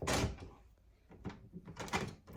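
A WELOCK smart-lock door is opened after being unlocked, giving a sharp latch click and thump, then a few softer knocks and rattles as the door swings, all close and fairly quiet.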